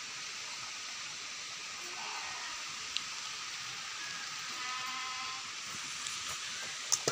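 Steady rain falls in a rural Balia village, a soft continuous hiss of drops with faint occasional ticks and no talk over it.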